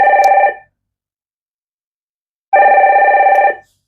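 A telephone bell rings twice, loud and close, each electronic trill lasting about half a second to a second, with a silent gap between the rings.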